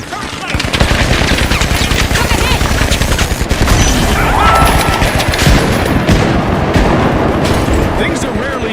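A video game turret machine gun in an arena match rattles in a loud, sustained burst of rapid automatic fire that runs for several seconds, with explosive booms layered in and a game announcer's voice over it.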